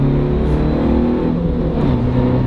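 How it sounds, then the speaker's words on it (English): Steady engine drone of a 2019 Suzuki Jimny SZ5 with a tonal whine from its low-ratio gearbox, loud and constant from inside the vehicle. "there's the noise of the engine. and the whine of that low ratio box that sounds absolutely immense"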